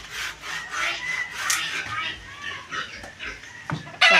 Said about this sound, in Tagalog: At si Tatay Roman naman po ay naglalagari po ng kahoy.